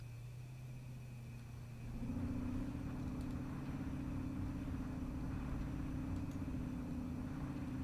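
Military trucks rolling forward in the video game ArmA make a steady, low engine drone that swells a little louder after a couple of seconds and then holds an even, rumbling hum with no talking.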